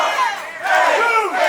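An arena crowd at a wrestling match between Aaron Dallas and Nick Halen roars and cheers in a sustained loud wall of voices, swelling again after a brief dip, with no commentary over it.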